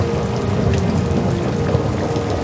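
Steady falling rain pattering on a surface, a dense, continuous wash of drops with a low rumble beneath, close and moderately loud throughout with no voices.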